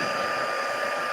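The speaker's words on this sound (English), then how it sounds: "I'm now going to heat that with my heat tool" A heat tool blows a steady, loud whooshing hiss that runs continuously without a break while it melts embossing powder on a stamped card.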